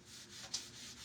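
A cloth or brush rubs whitewash stain into a wooden board, giving a soft, faint scrubbing swish in a few quick back-and-forth strokes.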